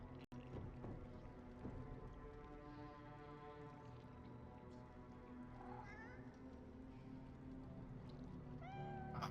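A cat meows several times, with rising wavering cries later on over a steady low humming drone and a faint background hiss, along with a sharp click near the start.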